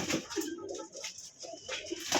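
Pigeons kept for sale coo in soft, repeated low calls, close by and overlapping, with a little background noise.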